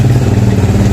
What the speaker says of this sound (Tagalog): Maingay yung motor.